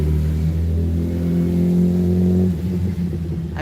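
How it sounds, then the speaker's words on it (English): A car engine revs loudly and steadily nearby on a busy street, a strong humming rumble that drops off and roughens toward the end. "It's gonna be a little noisy out here because of all the traffic"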